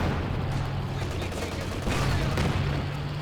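Rapid bursts of FG-42 automatic rifle fire in the strategy video game Company of Heroes 2, dense crackling shots overlapping in a continuous volley, moderately loud with battle noise.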